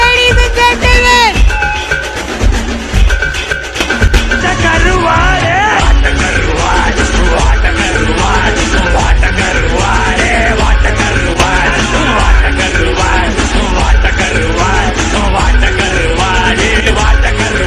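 A stage-event crowd cheers and yells loudly and steadily, with whoops and shouts blending into a dense roar that carries on without a break, joined by music or chanting voices.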